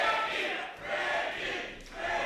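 A live pro wrestling crowd cheering and chanting behind wrestler Ricky Norton, a continuous swelling roar of many voices in a hall, rising and dipping in waves.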